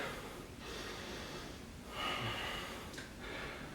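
Slow, steady breathing during a yoga warrior two pose, soft and fairly faint, with a few longer audible inhales and exhales and no talking.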